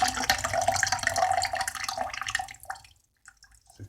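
Water pours steadily through a filter at the inlet of a household water tank, a dense, continuous splashing and trickling that stops abruptly near the end, leaving a few faint drips.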